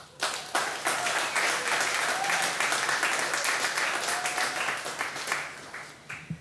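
Sustained applause from an audience at a ship homecoming ceremony, dense clapping that swells quickly and holds steady for several seconds before thinning slightly at the end.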